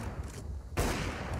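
Gunfire in a Counter-Strike: Global Offensive match on the Cache map, a loud burst of shots erupting partway through over a busy backdrop of game noise.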